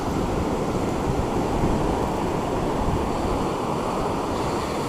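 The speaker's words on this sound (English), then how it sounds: "we've still got big waves crashing in" Big waves crashing continuously onto Gorleston beach, a loud unbroken roar of surf with wind noise and no voices.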